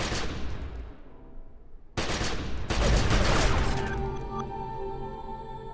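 Loud video-game gunfire in The Secret World: heavy bursts of shots and booms, a brief gap, then a renewed barrage that decays into ringing echoes.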